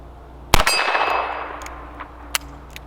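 A .22LR round from a Ruger GP100 revolver striking a steel woodchuck target, a single loud ringing clang that decays over about a second, followed by a couple of fainter metallic pings.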